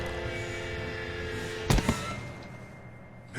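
In Telltale's The Walking Dead, a gunshot goes off as a sharp, loud bang followed quickly by a second burst, cutting through a low ambient hum.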